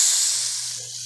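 A rib eye steak sears in a pan with margarine, giving a steady, bright hiss that fades slightly over a brief moment, with a low constant hum beneath.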